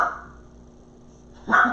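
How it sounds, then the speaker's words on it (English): A pet dog named Mandy barks once, loud and close, near the end, after a stretch of quiet room tone while someone works on a Christmas centrepiece. "Mandy, if you're gonna bark, go outside"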